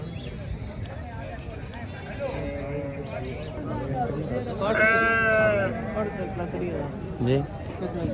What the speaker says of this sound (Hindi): यह जी बड़ी ज़बरदस्त किस्म के बकरे खड़े हुए हैं